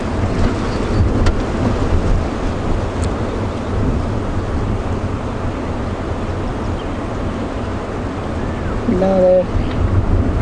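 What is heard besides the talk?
strong wind on safari drive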